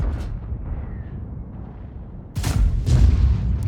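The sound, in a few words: tank cannon firing premium rounds in video game World of Tanks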